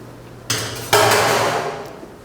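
A clean spoon clanks and scrapes against a metal pot of lentils with bacon, two distinct knocks followed by a longer rasping scrape, close and fairly loud with no talking.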